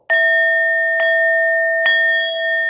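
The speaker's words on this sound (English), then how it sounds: "we will ring the bell" A bell rings three times in a steady sequence, each strike bright and clear with a long sustained ring that carries into the next, loud and close with no voices.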